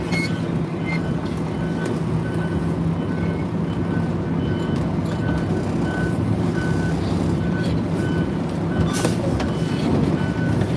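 A front-loader garbage truck reversing to turn around, its backup alarm beeping in a steady repeating rhythm over a loud, constant diesel engine rumble heard from inside the cab.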